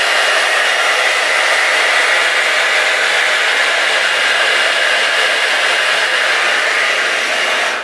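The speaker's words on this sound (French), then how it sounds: "Et je vais vous montrer quand même la brosse pour le brushing." A Babyliss hot air brush for blow-drying runs with a steady, loud, close whir of blowing air, unbroken for about eight seconds with no voices.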